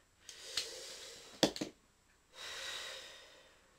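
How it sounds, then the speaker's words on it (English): A person draws a deep breath before a retro Asterix the Gaul maze level: a short gasp, a sharp snorting intake, then a long audible exhale, close and quiet with no talk. "I'm going to take a deep breath"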